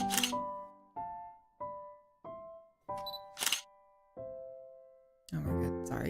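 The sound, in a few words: camera shutter on tripod with slow shutter speed, from a video game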